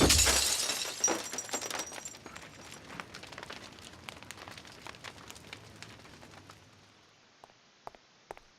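Stained glass shatters in the Eternal Darkness video game, a loud burst of breaking glass at the start followed by scattered tinkling shards and debris settling over several seconds, fading to near silence.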